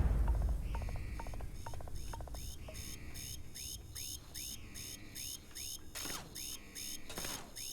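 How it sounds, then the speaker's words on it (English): Security alarm in a sci-fi video game facility, a steady run of repeating electronic beeps and rising tones pulsing throughout at moderate loudness over a low mechanical hum, no voices. "Can't shut off the alarm now?"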